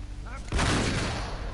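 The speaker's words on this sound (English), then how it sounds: "shot him in the face with a shotgun and he didn't die" A shotgun in the video game Uncharted 3 fires once: a sudden loud, sharp blast with a rumbling tail. A brief voice comes just before it.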